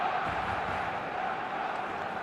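Steady, dense roar of a stadium crowd in the eFootball soccer video game on match day, a continuous fervent wash of cheering with no clear breaks.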